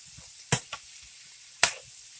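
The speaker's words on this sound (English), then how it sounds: "you want to go ahead and add your shrimp to it. And just have that toss around in there" Shrimp dropped into a hot garlic butter pan give off two bursts of sizzling, each fading quickly, with a light stir or toss heard between them.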